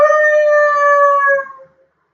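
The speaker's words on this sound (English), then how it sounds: "Hagrid let out a howl like a wounded dog" A single loud, drawn-out howl like a wounded dog holds a steady pitch for about a second and a half, then fades quickly into silence.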